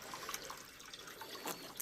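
Water flowing into a tank, a faint, steady trickling and splashing wash with small drip-like accents, continuous and alone without talk.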